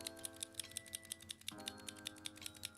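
A new clicking fidget toy, tapped in a quick, irregular run of sharp little clicks over a faint steady hum.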